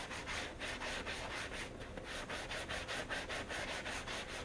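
A brush works wax onto a game ball to make it shiny and tacky for game day, giving a quiet, steady scrubbing with quick repeated back-and-forth strokes close by.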